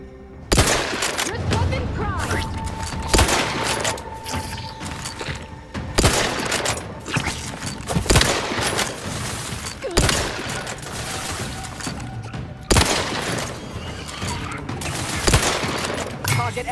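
Gunfire from a non-automatic gun in The Outer Worlds 2 rings out as a series of loud, sharp shots spaced a second or two apart, with reverberant tails and background game sounds between them.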